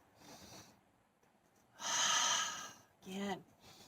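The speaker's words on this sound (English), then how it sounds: "Other side, breathe in." Sharp audible breaths during an energetic mindful movement class, with a long, loud noisy inhale in the middle and a shorter breathy intake with a voiced edge just after, set apart by quiet pauses.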